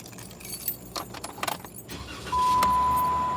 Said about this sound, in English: I'm gonna crank up my car, guys.